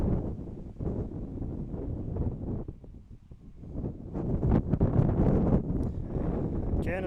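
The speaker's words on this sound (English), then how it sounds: "Can't escape the wind." Strong wind buffeting an outdoor microphone at a state championship semifinal game, a continuous low rumbling roar that swells and gusts louder toward the end.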